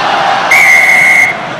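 A referee's whistle blows once at a Perpignan versus Munster rugby match, a loud, piercing, steady tone lasting close to a second over a murmuring stadium crowd.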